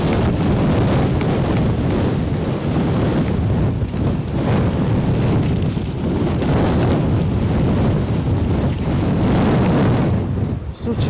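Strong gusty wind buffets the microphone at Edinburgh airport, a loud roaring rush that swells and eases in waves throughout, with no clear voices over it.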